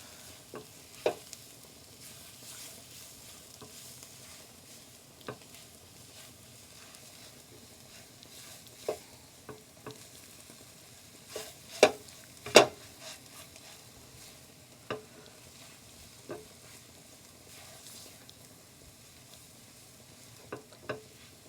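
A spoon stirs fish biryani masala with turmeric in a frying pan, giving quiet, scattered scrapes and taps over a faint, low sizzle, with a few sharper knocks against the pan and no talking.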